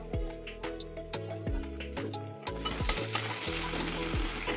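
Chopped onion drops into hot oil with five-spice for masoor dal and fries with a steady sizzle, broken by several spoon scrapes against the pan, and the frying grows louder toward the end.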